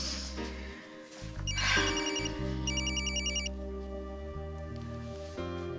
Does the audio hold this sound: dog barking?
no